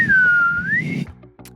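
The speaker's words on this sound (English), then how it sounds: "Right when I am about to be harmed, I actually whistle" A person whistles a single sustained note that dips and rises in a smooth glide for about a second, loud and close, followed by brief faint noises.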